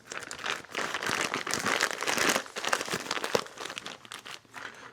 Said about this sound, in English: And I'm putting them in just a Ziploc bag.